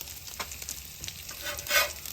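Pancakes sizzle on a Halo griddle during a big breakfast cook. The frying crackle is soft and steady, with one brief louder swell and no talking.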